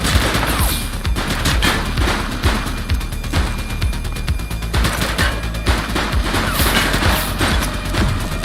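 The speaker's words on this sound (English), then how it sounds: "Shots fired!" Gunfire in a police video game: dense, rapid bursts of shots and automatic fire crackle continuously and loudly, overlapping in an unbroken volley.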